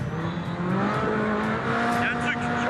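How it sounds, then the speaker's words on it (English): Dakar rally car at speed with a strange, bad-sounding belt noise: a steady droning engine with a thin whining tone running through it, loud and continuous, with voices talking over it. "There's a strange noise. It's a belt. It's a bad noise."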